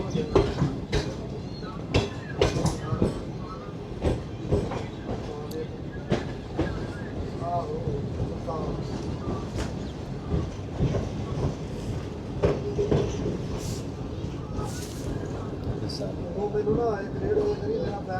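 New Shalimar Express passenger train running on a loop line near a railway station, with rhythmic clickety-clack of wheels over rail joints and a steady rumble, heard from inside the train with occasional bumps.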